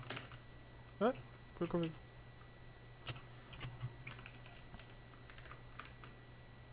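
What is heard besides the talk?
typing on a new computer keyboard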